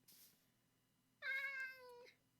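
A single clear, drawn-out meow from a cat in a Minecraft game, sounding close and alone over a faint low background hum.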